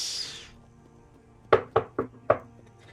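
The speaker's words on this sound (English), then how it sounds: "There's another knock." Four sharp knocks on a door in quick, slightly uneven succession ring out clearly and fairly close, following a brief hiss and a stretch of quiet room tone.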